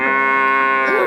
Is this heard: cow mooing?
yes